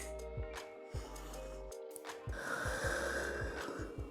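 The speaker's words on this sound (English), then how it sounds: "together, let's take 3 big breaths" A child's deep, audible breaths during a yoga child's pose, several slow inhales and exhales in a soft rhythm close to the microphone, fairly quiet with no talk.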